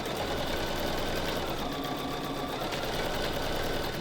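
A sewing machine stitches a quilt block in a steady, continuous run, its fast needle hum and motor drone filling the whole stretch at close range with no pauses and no talking.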